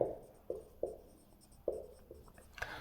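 Chalk or marker strokes on a board during a vector calculus lesson, a series of sharp taps and short scratches at an irregular pace, close and moderately quiet, with no voice over them.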